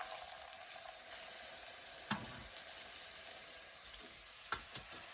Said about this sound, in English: And I'm gonna get my pork chops cooking in here.